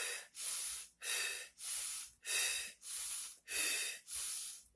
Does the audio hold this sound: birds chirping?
no